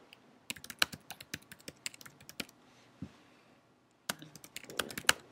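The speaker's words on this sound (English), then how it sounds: "I'm going to type it here." Rapid, crisp keystrokes on a computer keyboard, close and clear, coming in quick bursts with a brief pause before another flurry of typing.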